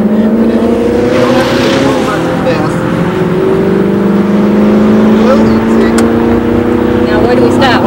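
A front- or rear-engine drag race car launches from the start line, its engine blaring loud and close in a sustained roar with rising tones as it accelerates hard, voices barely audible beneath.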